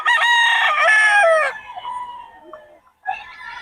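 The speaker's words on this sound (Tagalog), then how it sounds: "puro solid ang mga manok ni Boss Albert" A rooster crows loudly and close, one long harsh call that trails off, followed by the start of another crow.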